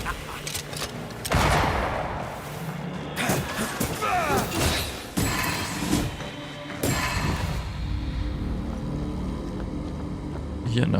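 Explosions and gunfire in the video game Banishers: Ghosts of New Eden, a dense run of loud blasts and bursts with several sharp hits across the stretch, over constant game noise and music.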